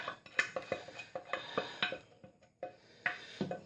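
Spaghetti bolognese being scraped from one cooking pan into a big pan, a quick run of metallic scrapes and clanks in uneven rhythm, close and moderately loud with no voices.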